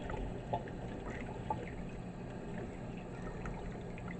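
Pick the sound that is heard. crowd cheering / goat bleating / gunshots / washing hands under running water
washing hands under running water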